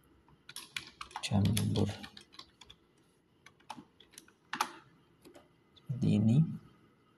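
Typing on a computer keyboard in scattered bursts of clicks between stretches of speech, with someone talking over and around the keystrokes.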